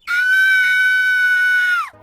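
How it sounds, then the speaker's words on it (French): A woman's single sustained high scream on a steady shrill pitch, loud and close, that holds for nearly two seconds before falling off sharply. "Il entend une femme crier"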